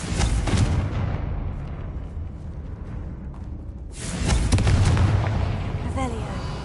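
Confringo explosive spells cast in the Hogwarts Legacy video game, two loud booming bursts with a crackling rumble between them, filling the whole stretch over a steady game soundscape.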